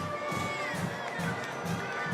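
Broad murmur of a packed crowd filling the stands at a high school football game, a continuous wash of voices and scattered shouts at moderate distance.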